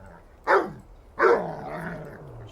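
A single dog barks twice, the second bark trailing into a longer growling tail; the sound is placed far away in a binaural virtual mix, with soft, distant, reverberant character and no talking.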